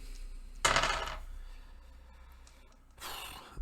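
Five dice rolled across a table, a short clattering burst followed by a second rattle a couple of seconds later, close and moderately loud.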